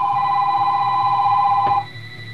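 A telephone rings with a steady, loud electronic trill that holds unbroken and then stops abruptly, leaving quiet room tone.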